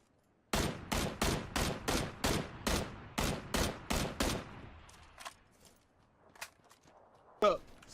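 A rapid, loud string of about a dozen evenly spaced gunshots fires in a video game, followed by a few scattered fainter shots and a final sharp burst, with no voices.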